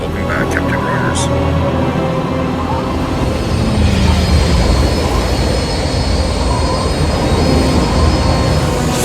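Jet aircraft engine roaring loud and steady as it comes in to land, a continuous broad rush that swells slightly midway, with brief voice fragments over it early on.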